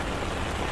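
Steady rain falls at an outdoor protest rally, a dense, even hiss of drops close around with no break and no voices.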